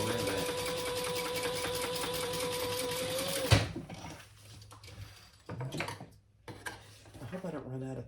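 A sewing machine stitching a crossbody bag runs in a loud, steady whirring drone for several seconds, then stops abruptly, leaving quieter handling clicks and rustles.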